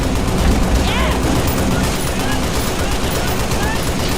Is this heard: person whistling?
no